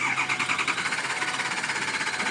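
A 6.0 diesel engine with a no-start fault cranks steadily and rapidly in an even starter rhythm, loud and close, without catching.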